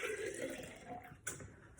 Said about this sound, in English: I'm just going to quickly pour it back and forth